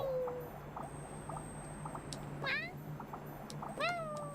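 A cat meows several times, with rising and falling tonal calls spread across the clip over a low steady hum and faint background sounds.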